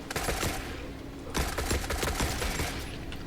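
Automatic gunfire in the Forever Winter shooter game: rapid, loud bursts of close firing in a steady rattling stream with clustered cracks, no voices.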